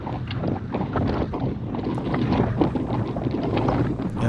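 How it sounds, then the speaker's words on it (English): Steady wind roar buffets the microphone while cycling straight into a headwind on a group road ride, a continuous broadband rush that swells and gusts slightly throughout, with no talking. "You can hear that wind. We're going straight into the wind."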